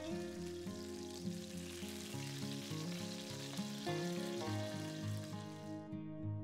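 Chicken fillets fry in oil in a pan, browning on both sides, with a soft continuous sizzle beneath louder tonal background music.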